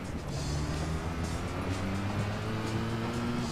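A normal car with racing modifications drives a rally course in Gran Turismo 2. Its engine drones steadily with a shifting pitch throughout, loud and close.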